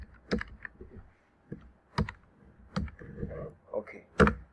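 Clicky keystrokes on a computer keyboard while entering text into an Excel spreadsheet cell, a few sharp taps and short bursts of typing, close up, with quiet spoken words between them.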